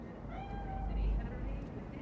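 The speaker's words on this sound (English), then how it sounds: "Chill, just a cat." A cat meows once in the video game Cyberpunk 2077, a faint drawn-out call over a low background hum.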